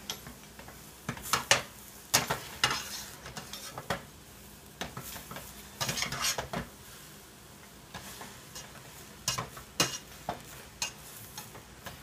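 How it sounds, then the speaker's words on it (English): Shrimp egg roll filling stirred in a hot oiled pan, with sharp irregular scrapes and clatters of a utensil over a low steady sizzle, close by and without talk. "you're going to want to do some more stirring"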